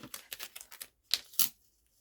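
Scissors cutting a piece of fabric for a sewing project, a series of quick crisp snips followed by two sharper cuts, close and quiet with no talk.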